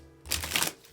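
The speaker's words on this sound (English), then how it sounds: "One more shuffle" A deck of oracle cards being shuffled by hand, a short rustling burst of riffled cards, close and fairly loud, with no talking.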